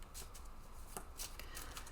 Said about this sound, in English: I'm just throwing cards everywhere